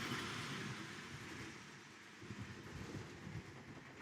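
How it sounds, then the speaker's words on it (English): Model trains run around a layout track, a steady rolling rumble with soft rhythmic clicking that swells slightly near the end, close and continuous with no talking. "Take a look at these trains, ladies and gentlemen. They're running nice and smooth."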